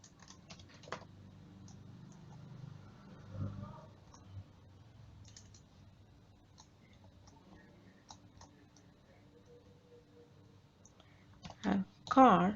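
Scattered computer keyboard clicks and taps while writing Go code for a REST API, quiet and close, coming in sparse bursts with pauses, and a short spoken phrase near the end.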